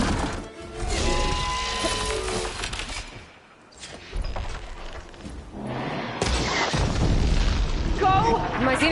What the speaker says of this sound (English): Caught him in the blast!